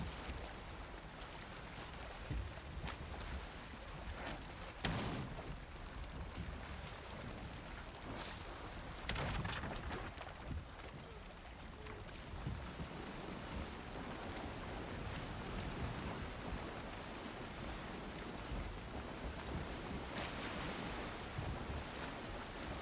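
A boat sails on the open sea in Valheim, a steady, soft wash of water and wind rushing continuously for over twenty seconds with faint splashy surges and no talking.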